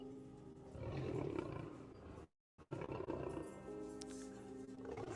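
Big cats roar loudly in a story sound effect, broken by a brief silent gap, then the deep growling roars return close and sustained.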